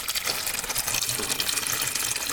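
Red coolant gushes out of the radiator of a 2018 Ford Edge Sport 2.7L during a cooling-system flush, a strong steady splashing flow, close and uninterrupted, with no one talking.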